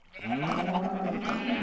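Blocky Minecraft sheep bleat in a steady, wavering run of calls that fills the short moment, fairly loud and close, with no talking over them.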